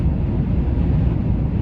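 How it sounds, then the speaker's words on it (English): Strong wind gusts of up to 45 to 50 mph buffet a truck driving through Arizona, a steady loud low roar of wind rumbling against the cab throughout, with no voices. "the wind gust is really extreme, sometimes 45, 50 miles an hour"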